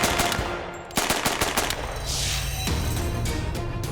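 An M3 grease gun fires in short bursts of rapid, evenly spaced shots, loud and close, with a slower cadence of heavy reports and a brief gap between bursts.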